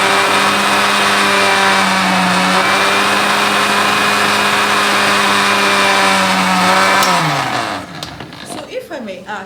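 An electric blender whirs steadily while blending onions and pepper for a meat dish, a loud sustained motor whine that drops and winds down near the end, with no talk over it.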